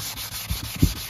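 Abrasive sanding strokes scrub rust from an aluminium part, a soft rhythmic rubbing with a few firmer passes, close and fairly quiet.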